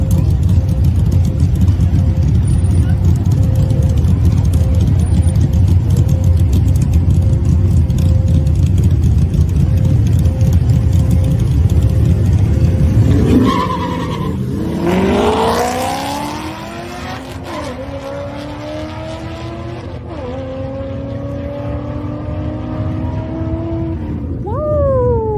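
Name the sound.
Mopar car engine revving in a race video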